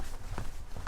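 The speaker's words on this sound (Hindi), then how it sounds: "कमरे के बाहर स्वप्निल को किसी की चलने की आवाज सुनाई दी।" Footsteps of someone walking outside a hotel room at night, a short run of soft muffled steps at a moderate distance, heard alone without talk.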